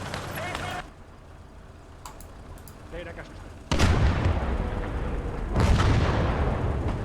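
A big gun firing in a video game battle in Motherland: two heavy booming blasts with long rumbling tails, loud and close, with quieter battle noise before them.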